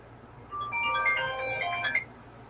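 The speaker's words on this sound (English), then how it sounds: "Now who's calling my phone?" A phone ringtone for an incoming call plays a short melodic burst of bright tones lasting about a second and a half, then stops, over a quiet room.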